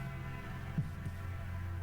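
Heartbeat sound effect, a purple heart thrumming inside a temple: two faint low thumps a fraction of a second apart, sunk in a steady droning hum.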